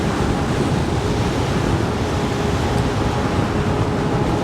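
Steady, loud roar of wind buffeting the microphone while riding a Begode EX30 electric unicycle along a road, constant broadband rush with no voices.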